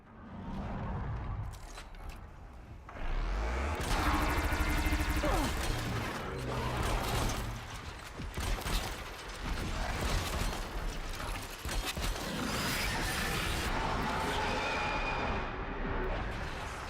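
Robotic machine creatures in Horizon Zero Dawn clank and grind with dense mechanical crashes, whirring gears and impacts, loud and continuous with a brief lull before the din surges again.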